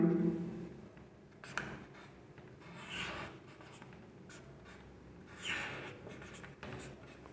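A pen scratches out Urdu letters on paper in a quiet room, with soft, intermittent rubbing strokes that rise and fade in short bursts, close and faint, with no voice over it.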